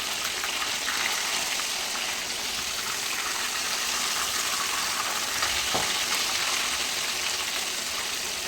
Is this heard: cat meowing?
no